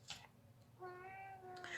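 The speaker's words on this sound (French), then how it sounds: "Excusez-moi, vous entendez mon chat." A pet cat gives a drawn-out, tonal meow, close and clear, after a brief faint vocal burst at the start, with light room noise underneath and no talking.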